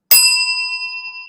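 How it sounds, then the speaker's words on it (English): A single bright bell ding, struck once and ringing out clearly with a pure sustained tone that slowly decays, alone with no talking over it. "Give me a bell for a new segment."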